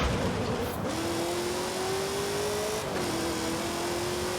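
A heavily tuned Mazda RX-8 engine in Forza Horizon 5 holds a loud steady whine as it drives, its pitch rising gradually, dipping briefly at a gear change, then climbing again.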